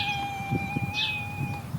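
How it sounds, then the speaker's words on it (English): Cat meowing along a Camino de Santiago trail, a few short mews at close range over a faint steady high whistle-like tone, with no talk. "Oh, another kitty."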